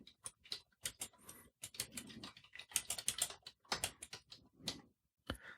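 Fingers type on a computer keyboard in uneven bursts of crisp, close key clicks, with short gaps between the runs and no speech.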